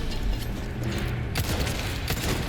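Heavy cannon fire in the Resident Evil 4 Remake video game, held down continuously as a dense, rumbling barrage of booming blasts with mechanical clatter, loud and close throughout.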